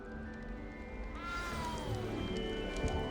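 A small cat in the Hogwarts Legacy game gives a drawn-out, rising and falling meow over a steady ambient game backdrop, fairly close and clear.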